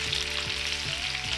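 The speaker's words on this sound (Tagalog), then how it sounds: "I put now in this frying pan with salmon." Salmon fillet frying in a frying pan, a constant close hiss and crackle of sizzling oil with faint low hum, no voices.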